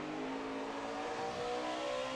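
A NASCAR truck engine holds steady on throttle during a practice lap at Martinsville, a continuous droning whine heard from a distance at low volume, with no voices.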